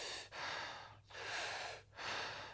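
A voice imitating shallow chest breathing: three quick, loud, airy gasps in a steady rhythm, close up, each cut off by a short pause.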